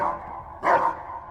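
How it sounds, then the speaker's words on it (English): Fido, the K9000 cyberdog in a video game, gives a short single bark-like yelp, brief and clear over a low background hum. "And it still barks when you equip it."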